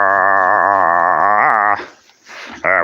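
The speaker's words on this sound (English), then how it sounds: "Why do you have to growl?" A dog makes a long, drawn-out vocalization, more like a sustained howl or whine than a low growl, loud and close for nearly two seconds, then breaks into a few short, breathy noises.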